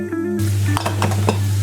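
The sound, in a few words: onions cooking in meat oil with spices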